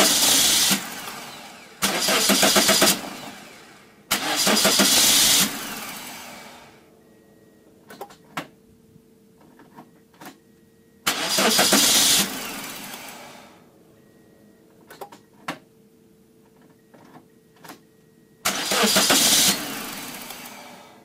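A car engine cranks repeatedly without catching while its MAF sensor is disconnected: several loud starter bursts of two to three seconds each, separated by quiet gaps with faint clicks and ticks.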